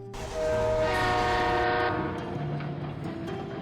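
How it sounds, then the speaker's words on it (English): A loud train horn blares and then fades as a train pulls into Transnova Station in the Delta Force video game, with rumbling rail noise and shifting tones continuing underneath. "The tracks tremble, signaling boarding time at Transnova Station"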